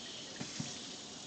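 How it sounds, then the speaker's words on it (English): A steady stream of water runs from a sink hose, rinsing out a yerba mate gourd, a continuous hiss with two faint knocks partway through. "I'm going to begin by turning on a nice stream of water. I'm going to get the hose out, invert the gourd"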